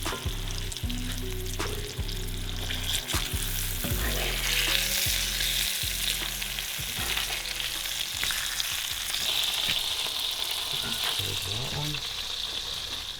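Wild-caught fish fries in a cast iron pan with a steady, close sizzle and crackle, broken by repeated scrapes and clacks of stirring or turning, and no talking.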